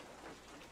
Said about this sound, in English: Going back to the rainy hut sound effect in the background.